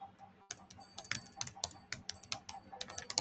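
Rapid typing on a computer keyboard, with quick, uneven bursts of sharp key clicks running throughout and no voices.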